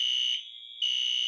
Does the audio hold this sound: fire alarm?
yes